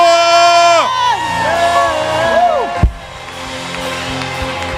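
A church congregation shouts and whoops for joy, many voices rising and falling in loud overlapping yells and cheers, close and full, with a sharp thump partway through before the crowd noise settles lower.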